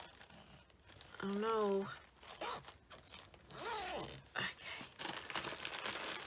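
Zippers on fabric project storage bags for cross-stitch projects pulled open in several quick rasping runs, close and fairly loud, alternating with a person talking.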